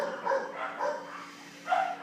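A dog barks a few times in short, muffled yelps spaced apart, moderately near, over a quiet background hum.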